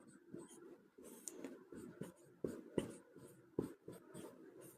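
A pen writes a math answer on paper in quiet, close scratching strokes with short taps and pauses between them, faint and intermittent, with no speech.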